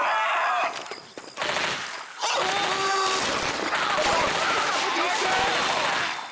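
Rapid gunfire in Left 4 Dead 2, loud bursts of shots in quick succession with a short lull near the start, mixed with other game noise and some voices.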